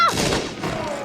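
A musket volley fires in the video game Banner of the Maid: one dense, rolling burst of many overlapping shots, close and loud, with a brief voice at the very start.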